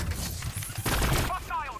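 Overcharged weapon fire from the video game Warhammer 40000 Battlesector lands as a dense cluster of booming blasts. It is moderately loud, with a brief crackling tail.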